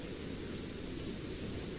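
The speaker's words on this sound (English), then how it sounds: "They're saying the rain's hammering down in Birkenhead" Heavy rain hammers down at a football ground in Birkenhead during a sun shower, a thick, constant roar of falling water with no speech, loud and unbroken.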